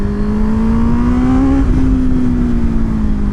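Honda CB650R motorcycle engine droning steadily at high revs on a race track, a loud continuous whine that rises slightly then eases as the revs drop, with no one speaking.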